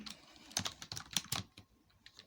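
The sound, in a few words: typing on a computer keyboard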